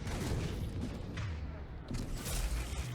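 Rapid booming gunfire from a space gun in the video game Mass Effect 3, loud and continuous with dense repeated blasts and a voice mixed in.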